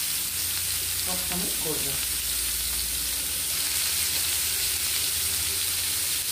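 Bone-in tandoori chicken pieces sizzling on a hot pan over medium heat, a steady hissing crackle of fat and oil throughout, with a brief spoken remark near the start.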